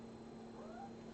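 A single faint, short cat meow rising over a steady background hum, heard from a little distance.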